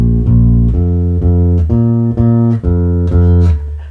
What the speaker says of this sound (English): And this is what the B flat sounds like.